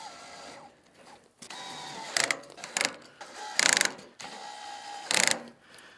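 A cordless drill with its clutch engaged drives bolts into a 30-inch steel fire ring, four short bursts of whirring and ratcheting clutch clicks spaced between quieter pauses, close and moderately loud.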